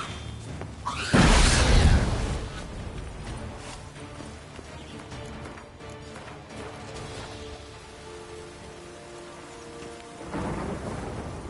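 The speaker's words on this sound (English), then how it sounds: "Storm, damn it." A thunderstorm in The Witcher 3 brings a loud thunder crack near the start and another rumble near the end, with a steady wash of rain between them and no speech.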